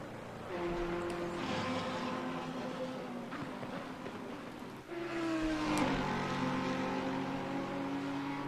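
Simulated Audi GT race car engine in Assetto Corsa Competizione at Monza, a steady loud harmonic drone that rises in pitch with acceleration and drops briefly at a gear change before climbing again, with no talk over it.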